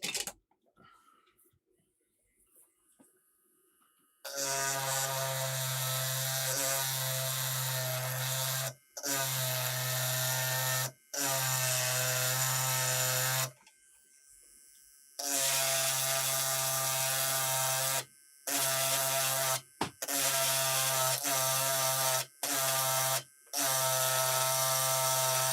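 An electric engraving tool grinds a label onto an Amiga 500 diagnostic part, loud buzzing bursts of several seconds each, broken by short pauses, close up and with no talking.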